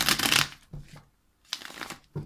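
Thick tarot cards being shuffled in two close, crisp riffling bursts, the first longer and louder, separated by brief soft taps and a quiet pause.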